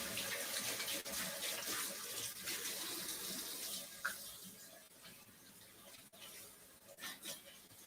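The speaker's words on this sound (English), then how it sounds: "Let me just wash up." Steady water runs from a kitchen tap during washing up, a continuous close hiss with faint clinks and handling noises, quiet and unbroken for several seconds.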